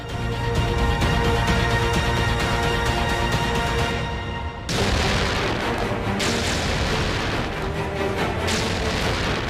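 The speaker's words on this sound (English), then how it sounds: "The Chinese then opened fire using heavy artillery." Heavy artillery fire in the snowy mountain battle of Rezang La in 1962, with loud, sustained, rumbling bombardment and a few sharper booms breaking through near the end.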